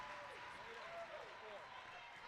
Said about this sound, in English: she gets a standing ovation from the crowd at the UVC